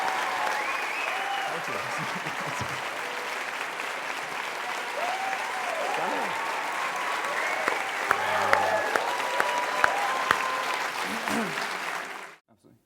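A theater audience applauds an actor's entrance, sustained clapping filling the hall for over ten seconds before cutting off abruptly, with a brief spoken thanks over it.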